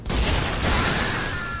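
Dante's hand cannons Ebony and Ivory fire a rapid, dense barrage that merges into a loud, continuous burst of gunfire, with a rising whine streaking through toward the end.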